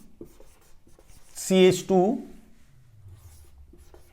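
A chemistry example is being written on a board, producing faint, light tapping and scratching strokes. A brief spoken phrase from a lecturer sits midway through.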